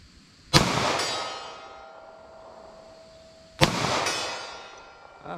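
Two sharp pistol shots of Federal Hydrashok ammunition from a 9mm or .38 Special handgun, about three seconds apart, each ringing briefly with a metallic tail in an otherwise quiet outdoor setting.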